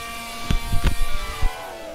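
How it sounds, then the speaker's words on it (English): A Lamborghini engine from a video game, sped up to five times normal speed, makes a high, thin, buzzing drone with harmonics that drift, broken by a few short low thumps. "you have fun listening to this absolutely terrible noise of Lamborghini running 5 times fast speed"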